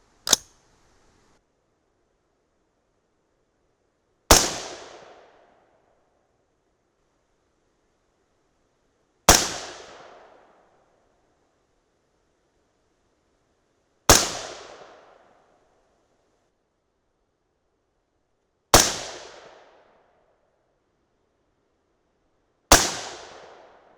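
Six loud rifle shots from a .223 Remington loaded with 62-grain Speer Gold Dot bullets over 29.4 grains of powder, evenly spaced roughly every five seconds, each a sharp crack decaying quickly into silence, with no talking.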